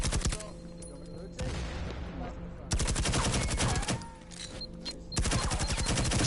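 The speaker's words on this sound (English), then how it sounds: "bit of a gunfire over on the other side" Bursts of rapid automatic gunfire crackle through a competitive esports match of the Pro League NA Elite finals, Meat Pack versus Killa, in volleys broken by short pauses, loud and close, with commentators talking underneath.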